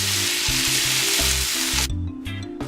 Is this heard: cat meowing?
no